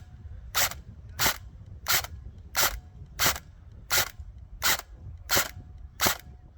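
Airsoft M4 DMR/AEG rifle fitted with a Perun v2 Clicker PRO firing BBs: ten sharp, evenly spaced single shots about two-thirds of a second apart, each a crisp snapping crack over faint background hiss, close and loud.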